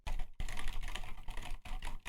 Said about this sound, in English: they're just typing, rapid fire typing on their keyboard as fast as they can